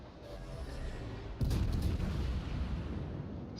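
A Kronshtadt cruiser firing its main guns at the Chungmu in World of Warships, a heavy booming salvo that cuts in midway over a constant low rumble of ship and sea ambience.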